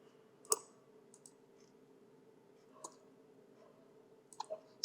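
Sparse, soft computer mouse clicks while designing in CorelDraw, scattered single and paired clicks separated by quiet gaps, close and faint.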